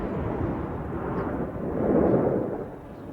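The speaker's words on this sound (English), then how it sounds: "That's going to detonate the main filling in the bomb." A deep, rolling boom from a bomb set off by a TNT and plastic explosive charge in Laos swells and rumbles across the landscape, distant and heavy, fading slowly with no talk.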